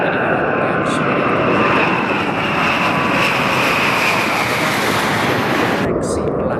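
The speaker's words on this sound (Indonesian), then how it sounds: "pesawat bomber berdaya nuklir itu adalah Tupolev Tu-160M" A Tupolev Tu-160M nuclear-capable strategic bomber roars with a loud, steady, broadband engine rumble that stays constant throughout.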